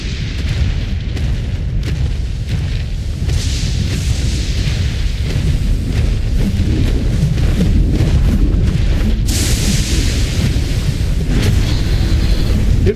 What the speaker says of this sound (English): Shooting fireballs already.